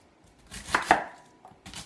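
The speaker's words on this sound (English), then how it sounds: "do a rough chopping of this." A kitchen knife roughly chops a head of cabbage for a quick ferment, giving a few sharp, close cutting strikes on a board with short pauses between them, and no talking.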